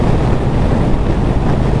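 Loud, steady wind roar buffeting the rider on a Triumph Bonneville T120 Black at 70 mph, a dense continuous rush with no pauses and no voices.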